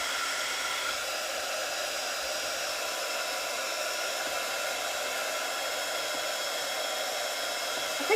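A hair dryer blows steadily to dry a freshly worked journal page, a continuous close whooshing hiss at constant loudness with no talk over it.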